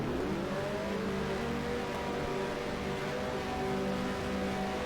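Engines of 1973 Formula One race cars revving at the start of the Canadian Grand Prix in F1 Challenge, a dense sustained drone of many motors with rising pitch, steady and loud with no talk.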